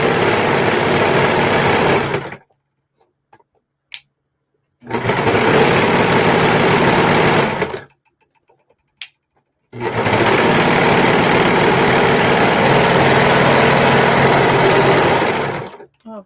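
Sewing machine or serger stitching a standard pillowcase in three long, loud, fast bursts of motor whir, separated by quiet pauses with faint clicks.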